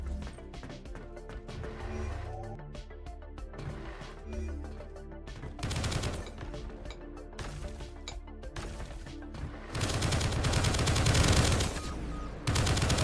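Rapid video game gunfire in Project Onyx, bursts of automatic shots and sharp single cracks as a character mantles and fires, building into dense, loud volleys toward the end, with no talking.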